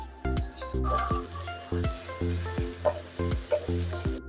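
Garlic and onion sizzle loudly in hot oil with a steady frying hiss, broken by repeated clinks and scrapes of a utensil stirring the pan; no one speaks.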